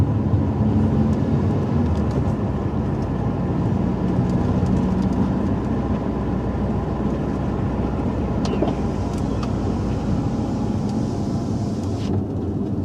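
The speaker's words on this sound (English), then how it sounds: "as we drive down the runway" A car driving down an airport runway, heard from inside as a loud, steady engine and road rumble with constant tire noise throughout and no change in pace.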